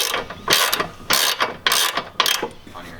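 A ratchet wrench tightening a nut during an aftermarket part install on a Lexus IS300, with four bursts of rapid clicking strokes separated by brief pauses, loud and close, with no talking.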